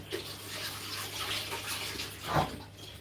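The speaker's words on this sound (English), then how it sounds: "So I'm gonna add water in it little by little, and I'm gonna mix it." Water trickles and splashes into Ghanaian Bofrot dough during mixing, a soft running pour with a brief louder splash near the end, fairly close and without talk.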